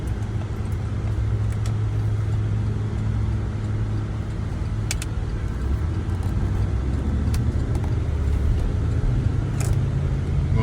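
A used car drives through a stop-and-go test, its engine a steady low rumble with road noise that swells slightly as it moves, close and continuous with no talking.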